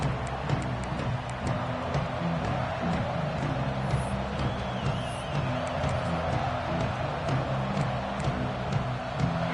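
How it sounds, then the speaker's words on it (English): College football stadium crowd at a Texas game, a broad continuous roar of many voices, steady and distant-sounding, with scattered whoops and an announcer's voice talking over it. "This crowd ready to make its presence known"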